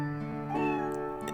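In Professor Layton vs. Phoenix Wright, a cat gives one drawn-out meow that rises and falls, clear and close, over a soft sustained musical backdrop.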